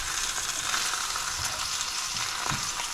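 Pork chops browning in a hot pan give off a steady, dense sizzle that stays loud and constant throughout, with a few faint pops and nobody talking.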